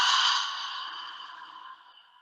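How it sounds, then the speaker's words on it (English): A long, full exhale during a guided mindful-movement breathing exercise, a soft breathy rush that starts strongest and slowly trails off over about two seconds, close and alone with no talking. "Deep breath. And exhale fully."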